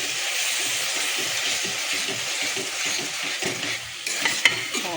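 Eggs and potatoes frying in oil for a red egg curry, a steady close sizzle with stirring scrapes and a few louder clatters near the end, with no talking.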